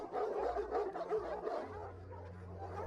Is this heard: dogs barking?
yes